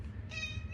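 A pet cat gives a single short meow partway through, close but quiet over a low background rumble.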